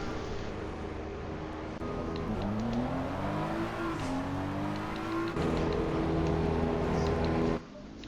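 A BMW race car in a racing video game drives the Suzuka track, its engine droning and rising in pitch through gear changes, loud and close with steady acceleration.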